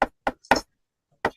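Four sharp knocks on a door, three in quick succession then a pause before a final rap, close and loud with silence between.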